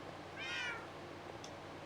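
A Minecraft cat lets out a single clear meow, bright and rising then falling, with a faint second chirp shortly after, over a quiet steady game background without any speech.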